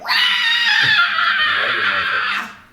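A voice imitates an ear-piercing scream for a Bioshock one-shot, a loud sustained shriek lasting over two seconds before cutting off.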